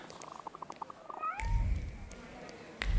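A cat in The Thaumaturge video game gives a single rising meow, close and clear, among quiet background ticks and low rumbling ambience.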